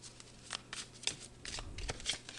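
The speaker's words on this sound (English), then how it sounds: "I'm going to pull a few more cards here" Tarot cards riffled and shuffled by hand, then cards pulled from the deck: a run of crisp papery flutters and snaps, close and fairly quiet, with a low steady hum underneath.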